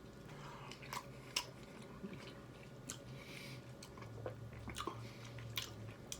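Soft, wet chewing of smoked brisket, close and quiet, with irregular squishy bites and a few sharper clicks, alone without talk.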